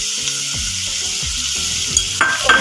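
Tomatoes sizzle in a pan with frying okra and potatoes, a steady bright hiss of hot oil broken by a few soft stirring knocks, close and continuous with no talking.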